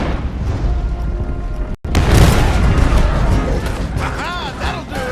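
Gunfire in Red Dead Redemption 2 fired to clear a blocked road, heavy booming blasts and dense crackling shots with a rumbling backdrop, amid game voices.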